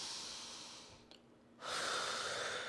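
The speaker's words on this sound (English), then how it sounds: "Okay, breathe for a second." A yoga practitioner takes slow breaths during a balance and strength flow, a long airy exhale fading into a pause, then a strong, close inhale rushing in.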